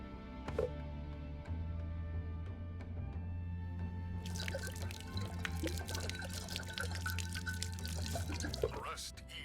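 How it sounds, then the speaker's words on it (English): Liquor pours from a bottle in The Dungeon Experience video game as a continuous splashing trickle, brightening partway through, with a low tonal hum underneath. "pay tribute by pouring some liquor for my homies"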